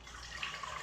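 Really warm tap water runs steadily into a measure for bread dough, a soft continuous rushing splash heard close, with no voices.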